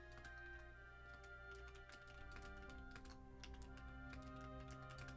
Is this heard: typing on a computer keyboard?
yes